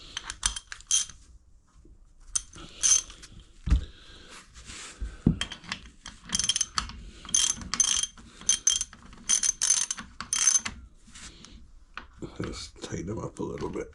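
Spark plugs on a motorbike engine being tightened with a ratchet, giving repeated clicking bursts up close with short pauses between them.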